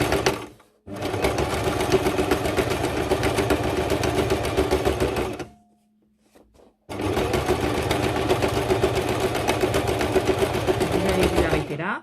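A sewing machine runs in two long, steady bursts of rapid stitching on thick fabric, with the pressure raised for the heavy cloth. A brief pause falls between the bursts, and no one speaks.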